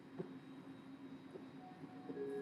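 Faint, steady rumble of riding inside an LA Metro D Line train, with a low continuous hum, soft rattles and a few quiet clicks, no talking.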